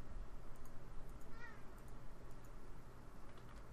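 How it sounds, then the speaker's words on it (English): A house cat gives one faint, brief meow against a steady background hiss, and nobody speaks. "My cats are going quietly crazy."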